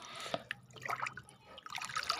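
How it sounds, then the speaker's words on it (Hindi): Buttermilk is stirred into a bucket of water for a plant fertiliser, giving faint, irregular sloshing, dripping and trickling close by, with no voices. "सो अब इस छाछ को अच्छी तरीके से पानी में मिलाना है"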